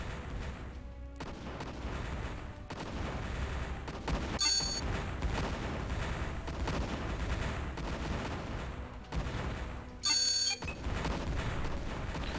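Tank gunfire in the video game Imperium Galactica: a steady, dense barrage of overlapping shots and booms, loud and continuous, with a few brief sharper bursts standing out near the end.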